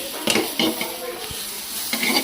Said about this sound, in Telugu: సో ఇలా కలిపేసుకుంటూ ఉన్నాం, కలుపుకుంటానే ఉండాలి గైస్